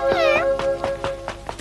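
A cat meows clearly and close by, a drawn-out cry followed by several shorter rhythmic meows, alone with no talking.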